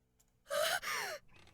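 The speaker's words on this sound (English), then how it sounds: "with a sharp gasp, my darling grasps the knob close" A sharp, breathy gasp from a woman in the It Paints Me horror game, a single sudden intake that rises and then trails off, close and alone with no talk.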